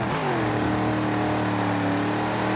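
Powerful car in Forza Horizon 4 revving hard while drifting, a loud, steady engine roar with its pitch rising briefly and then holding high and close for the whole stretch.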